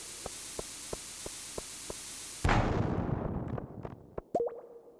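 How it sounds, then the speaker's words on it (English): In Stardew Valley, a bomb's fuse ticks six times in an even rhythm, then a loud, sudden blast bursts out. The blast fades into scattered debris plops and a final thud with a short ringing tone. "Let's see if we can do another bomb"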